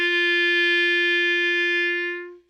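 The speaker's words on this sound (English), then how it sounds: "This is the clarinet." Professional Buffet wooden B-flat clarinet played as one long, steady, mid-pitched note, clear and rich in overtones, held for over two seconds before tapering off, alone.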